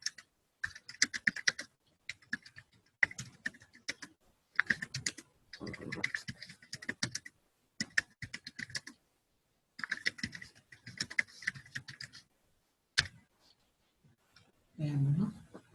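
Computer keyboard typing in bursts of rapid, close clicks with short pauses, as a comment is entered during a software testing class; a brief low thump near the end.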